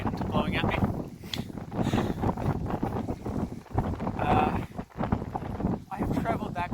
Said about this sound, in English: That's apparently a 32 knot wind blowing at me.